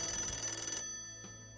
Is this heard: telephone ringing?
yes